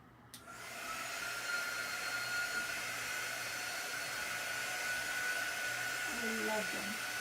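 A hair dryer runs steadily on a Chalk Couture holiday stamp transfer, a continuous close airy roar that starts abruptly and holds for several seconds, with faint speech-like murmurs near the end.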